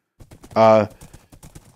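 Minecraft horse hooves clop in a quick, even rhythm, broken midway by a short loud whinny-like burst, with no talk.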